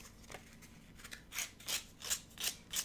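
A pair of scissors snipping off a thin layer of cured resin runoff: a series of short, crisp cuts, about seven, close and quiet, coming in an irregular rhythm that speeds up toward the end.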